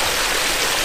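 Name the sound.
water flowing from waterfall diffuser into stream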